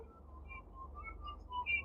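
A coach in the Roblox game Gym Simulator blows short, repeated whistle chirps, thin and bright, over a steady low game hum.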